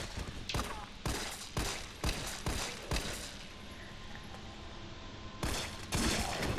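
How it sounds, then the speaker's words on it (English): Repeated gunfire in the Resident Evil video game, fired at a zombie's leg: a rapid volley of loud, sharp shots in uneven bursts, then a lull and a final pair of blasts. "we're going to shoot out his leg"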